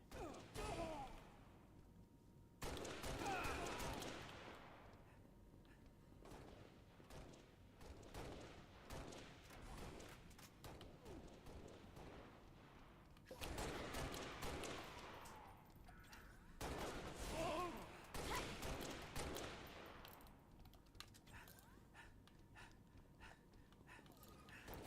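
Gunfire in Halo: Combat Evolved on Legendary with skulls, bursts of rapid shots in several clusters at moderate distance, with breathy sighs and gasps between volleys.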